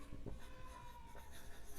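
Marker or chalk scratching across a board during a lesson on writing a letter to the editor, a few short strokes close by with no talk over them.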